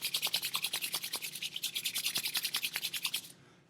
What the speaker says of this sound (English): rub our hands together, generate some heat